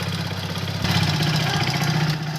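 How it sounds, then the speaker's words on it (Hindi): Hero HF Deluxe BS6 motorcycle engine with a worn piston running steadily at idle, a continuous low, slightly rough hum that stays close and even throughout with no talk. "तो इसकी आवाज़ सुनिए आप, जो इंजन है उसकी आवाज़ किस तरीके से चेंज हो गई है"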